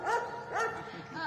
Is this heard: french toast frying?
no